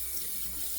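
Hot water runs from a tap over a shavette razor in a steady, close, rushing stream for under a second, with no voices.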